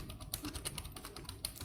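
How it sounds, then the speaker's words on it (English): Fingers typing on a computer keyboard, a quick irregular run of light key clicks, close by and quiet, with no talking. "Now I'll type something"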